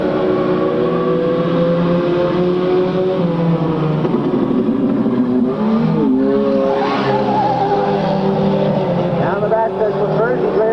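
Stock cars racing on an oval track, heard as a steady, loud engine drone with shifting pitch as cars pass through the turns, continuing under a race announcer's commentary.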